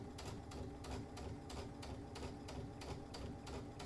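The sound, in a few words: sewing machine stitching along fabric edge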